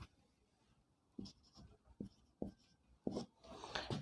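Chalk or marker writing on a classroom board during a physics lecture on the lens formula: short scratchy strokes in bursts, quiet, with pauses between and no talking.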